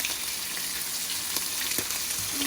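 Barracuda pieces frying in peanut oil, giving a steady, dense sizzle with small pops and crackles throughout and no talking.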